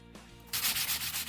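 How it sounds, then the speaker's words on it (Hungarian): A wooden model part has its side sanded by hand: a short quiet lead-in, then loud rhythmic rasping strokes up close. "az ZZ alkatrésznek az oldalát, azt csiszoljátok meg, hogy ne legyen kormos"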